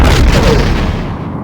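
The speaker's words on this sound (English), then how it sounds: "The Romulan warbird has been destroyed." A Romulan warbird exploding in a Star Trek: The Next Generation space game: one loud, dense boom that fills the moment and slowly fades out.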